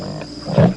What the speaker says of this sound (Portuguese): uma espécie de cuíca, que ao ser friccionada internamente com a mão molhada, pode emitir o rugido de uma onça no cio